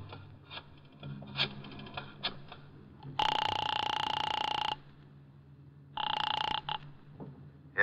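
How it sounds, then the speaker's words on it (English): A telephone rings twice after dialing in a radio drama sound effect, each ring a loud, steady electric bell burst over a low background hum, the first ring long and the second shorter. "I got out and found a telephone. I dialed the Kelsey residence"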